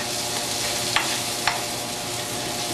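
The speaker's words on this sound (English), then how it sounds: "I'm going to add the pine nuts. Make sure they mix all in" Pine nuts are stirred in a sizzling frying pan, a constant close frying hiss broken by two sharp scraping strokes of the utensil, with no one speaking.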